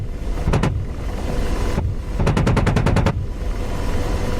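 An AH-64 Apache's cannon fires in the DCS combat flight game, first a short burst and then a longer rapid burst of loud, evenly spaced shots over a steady engine drone.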